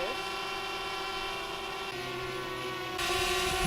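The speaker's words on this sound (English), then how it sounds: "The drone flies away and it automatically follows me." A DJI Spark drone in flight, its propellers producing a steady, tonal buzzing whine with a shift in pitch partway through and a louder burst near the end.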